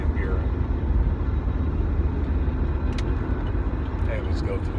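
A Chevrolet Bolt driving on the I-17 freeway in Phoenix, with steady road and tire rumble filling the cabin at a constant loudness and a faint high whine on top.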